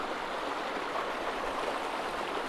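A river stream on the West Dart flowing into a pool, a steady, even rushing of water with no breaks, close and moderately loud.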